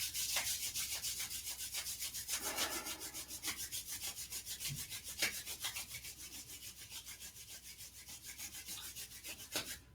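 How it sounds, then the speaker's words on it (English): Palms rubbing briskly together during a shiatsu self-centering exercise, a dry rhythmic friction swish repeating steadily for about ten seconds, close and fairly quiet with no talking. "So we rub our hands together."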